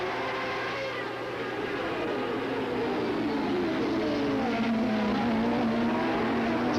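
Open-wheel race cars from teams such as Newman Haas and Tasman roar past on a racing circuit, a steady loud engine drone whose pitch sweeps down as they go by, heard from a distance without talk.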